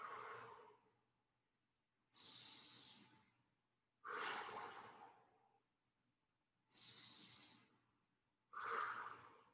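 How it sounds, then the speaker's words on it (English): Five slow, deep diaphragmatic breaths, each a soft airy rush lasting about a second, separated by quiet pauses, close and clear with no talking. "Practice this diaphragmatic breathing."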